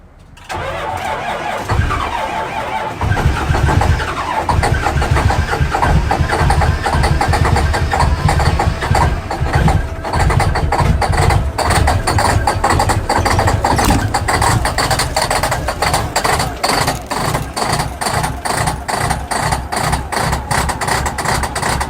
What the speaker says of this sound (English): Listen to this cold start I found on Instagram.